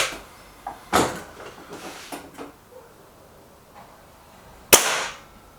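A .22 air rifle fires pellets in two sharp, isolated cracks a few seconds apart, with faint handling noise between them in an otherwise quiet setting.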